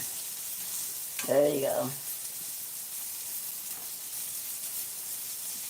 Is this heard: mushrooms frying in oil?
yes